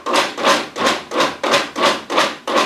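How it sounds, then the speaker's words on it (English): A food processor pulses through ground meat mixed with onion and bacon, giving seven or so evenly spaced bursts of grinding whir, each swelling and cutting off in a steady rhythm, close and fairly loud with no talking. "Let the food processor actually work for me."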